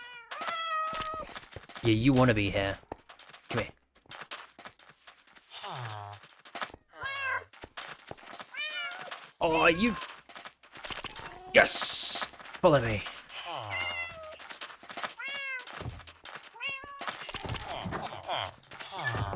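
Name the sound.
cats meowing in Minecraft, a video game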